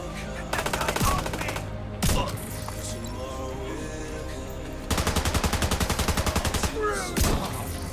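Automatic gunfire in The Division 2, with long rapid bursts of machine-gun fire and a few single heavy shots and impacts, loud and close, while a voice talks faintly at times.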